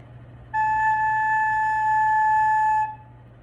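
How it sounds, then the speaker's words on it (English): A recorder sounds a single sustained A, a clear, steady, pure-toned note held for about two and a half seconds over faint background hum, then released. "This is the note A, and it sounds like this."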